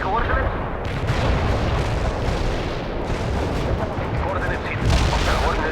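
Artillery strike in the real-time strategy game World in Conflict, a continuous heavy barrage of booming impacts and rumbling explosions, loud and dense throughout, with occasional voices in the mix.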